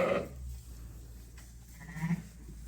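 Ewes and newborn lambs in a barn, a couple of short bleats rising over a low steady hum, moderately close and faint overall.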